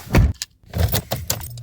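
Car keys jangling as a vehicle is started after sitting unused for many days, with clinking metallic jingles and dull handling knocks in irregular close bursts, a low engine hum emerging near the end.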